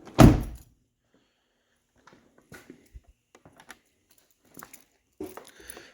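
A Chrysler Grand Caravan minivan door shuts with one loud close thump, followed by softer scattered clicks and light knocks from the vehicle body, with no talking.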